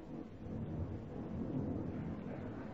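Thunder rumbling as a storm breaks over the 8th green of a golf course at the 1977 British Open, a low, faint, rolling roar lasting a few seconds.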